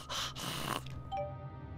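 A voice imitates heavy, congested breathing, like a badly sick Darth Vader: a couple of close, raspy snorting breaths through a stuffed nose and mouth, followed by a quieter tail.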